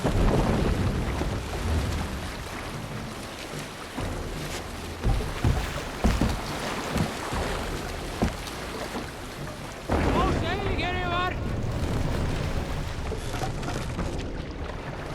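A Viking sailing ship crosses open water in Assassin's Creed Valhalla: steady wind and wash of waves roll under the hull, with a louder surge partway through and faint calls over the rushing air.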